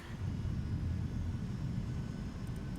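Landing gear lowering on a Boeing 757 in the X-Plane 12 flight simulator, a steady low rumble rising under the engine hum and holding for a few seconds without speech.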